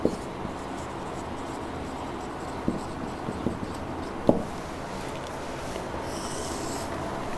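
A pen writing on paper in a journal-entry notebook, a soft continuous scratching and rubbing with a few sharper taps and clicks scattered through, close and quiet, with no talking.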